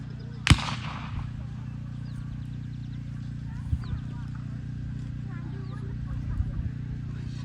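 Union artillery at a Civil War battle reenactment of Vicksburg in Pittsfield, Illinois: one sharp, loud cannon boom early on, then a couple of fainter distant thumps over a steady outdoor hum and light background chatter.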